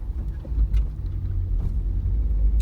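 Car driving along a road, heard from inside the cabin as a steady low rumble with light road noise and a few faint clicks, no voices.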